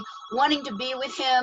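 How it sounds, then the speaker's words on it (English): A telephone rings during a relationship podcast conversation, its tone partly buried under someone talking over it. "Sorry about that phone thing."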